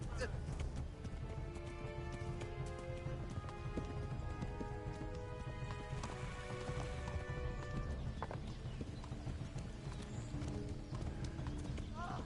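Steady clip-clop of a horse's hooves at a gallop in the video game Kingdom Come: Deliverance, continuous and rhythmic, with clattering noise and shouting voices mixed in.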